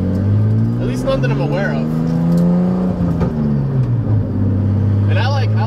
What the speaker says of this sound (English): I think the 20, in my opinion, sounds better. It revs higher, it revs faster